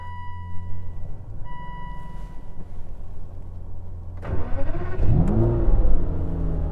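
A borrowed car's engine revs and accelerates, starting as a low steady idle hum and then swelling into a louder rising rev with a pitch sweep partway through, heard close with no talking.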